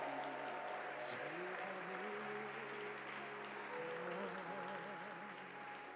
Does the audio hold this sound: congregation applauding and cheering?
yes